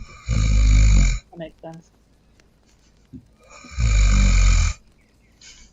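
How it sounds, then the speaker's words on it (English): A game character named Nuts snores loudly in a tent, two long, deep rasping snores separated by a pause, with someone briefly speaking in between. "Nuts is snoring loudly."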